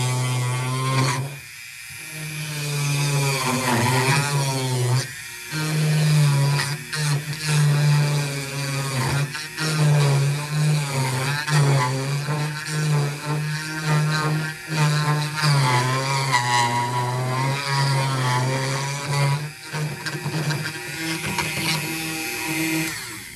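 A Dremel rotary tool drills into a wooden door hanger. Its motor whine runs continuously at close range, pitch wavering as the bit loads and eases, with a brief pause near the start and another around the five-second mark.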